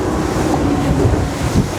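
Steady rushing wash of waves striking a motorboat's starboard side, mixed with wind buffeting, loud and continuous with small surges.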